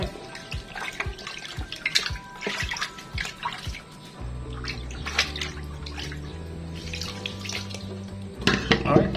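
Tap water runs steadily while beef from Monterey is rinsed for bulalo, with splashing and dripping throughout and a low hum underneath in the second half.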